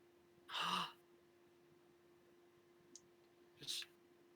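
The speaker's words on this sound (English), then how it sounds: "You just hear her take that little gasp" A woman's small, sharp intake of breath, a brief gasp near the start followed by a softer breathy catch a few seconds later, close and quiet with no talking.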